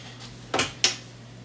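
A head of cabbage set into a 7-quart Cuisinart slow cooker, two quick hard knocks of something heavy against the crock, close and clear over a low hum.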